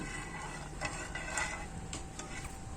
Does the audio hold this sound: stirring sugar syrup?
yes